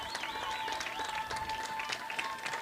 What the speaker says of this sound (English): That's why the fans are up cheering and waiting for the officials to show us